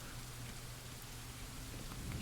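Rain falls steadily in the video game The Last Time, a soft, even wash of drops with a low rumble underneath and no voices.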